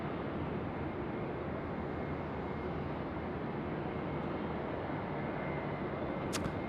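A jet airliner lands on runway 16 at Sydney Airport at night, a broad steady roar of engines and airflow filling the whole stretch, heard from a distance without any talk.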